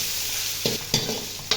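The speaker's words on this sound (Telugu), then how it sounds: "ఇప్పుడు బఠానీ వేస్తున్నాను." Green peas tumble into a frying pan of vangi bath, a steady hiss of frying with a few quick scraping stirs and rattling bursts, close and loud.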